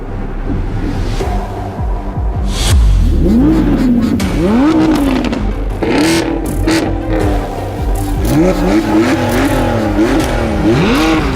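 A naturally aspirated V10 race car engine revs hard toward high RPM, its pitch sweeping up and down in repeated rising bursts, loud and close throughout, with no pause in the roar.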